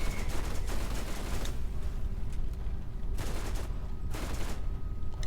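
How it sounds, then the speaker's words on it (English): Laser fire from the eye enemy in the video game Borderlands Remastered, a dense stream of rapid gunfire-like blasts and booms running throughout, loud and continuous with a few bright bursts. "It can shoot lasers."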